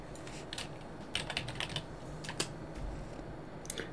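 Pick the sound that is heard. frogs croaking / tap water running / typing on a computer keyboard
typing on a computer keyboard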